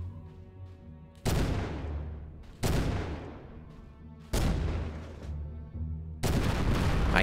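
Four heavy gunshots from the video game Conflict: Desert Storm, each a loud sharp blast with a long decaying echo, spaced roughly a second and a half apart with nothing else heard between them.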